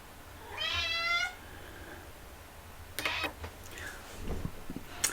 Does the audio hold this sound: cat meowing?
yes